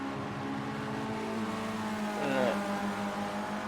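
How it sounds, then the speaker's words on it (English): Formula Rookie race car in Project Cars 2 at Brands Hatch GP, engine droning high and steady, then bouncing against the rev limiter through a bend, under a commentator's voice. "hitting that rev limiter as he was going around that bend"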